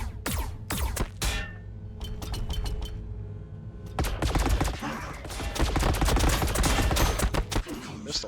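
Rapid gunfire in Warhammer 40,000: Battlesector, with bursts of sharp shots and clinking impacts, sparse at first and then a dense sustained fusillade, loud and close with battle noise and a faint voice underneath.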